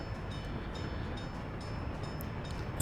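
Trains run in the Soviet-era city-building game Workers & Resources: Soviet Republic, a steady, rumbling rolling noise with faint metallic clicking heard at a moderate distance.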